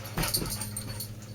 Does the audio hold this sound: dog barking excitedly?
yes